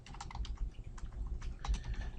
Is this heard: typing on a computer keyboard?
yes